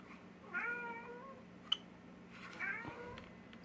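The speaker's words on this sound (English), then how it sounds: "My cat won't shut up." A pet cat meows repeatedly at close range in a quiet room, drawn-out wavering cries coming in two bursts with a sharp click between them and a steady low hum underneath.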